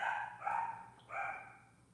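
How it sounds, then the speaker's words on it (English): A small female dog gives two quick, sharp, yappy barks close by, a short pause separating them, with no talking. "here she goes, barking her little face"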